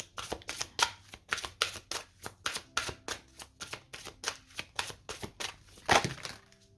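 Tarot cards being shuffled up close, a quick run of crisp, evenly spaced riffling bursts that continues steadily with no voices.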